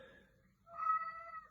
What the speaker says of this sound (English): there's my cat, who's often angry and complaining